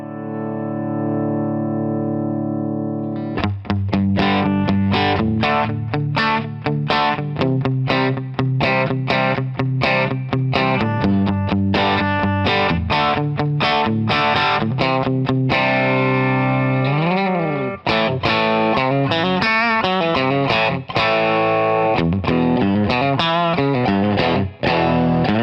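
A Telecaster-style electric guitar with a Paulownia body rings out through heavy distortion, playing a loud, continuous run of chords and riffs with sustained notes and some bent, wavering pitches near the end.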